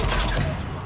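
Dense gunfire from the Mass Effect 3 video game during an assault on intruders, a continuous loud burst of overlapping shots with no pause through the short clip.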